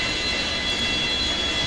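Boeing 727 jet engines in the FlyJSim flight simulator roar with thrust reversers deployed after landing, a steady, dense, loud rush with a high whine running through it and no talking.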